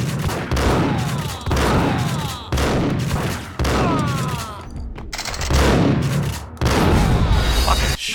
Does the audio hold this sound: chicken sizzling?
no